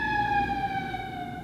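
An ambulance siren outside sounds a steady, sustained wail that slides slowly downward in pitch as it passes, moderately loud over a rumble of road noise.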